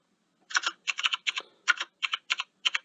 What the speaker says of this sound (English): I have mechanical keys on my keyboard